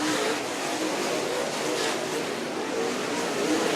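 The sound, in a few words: late model race cars racing at speedway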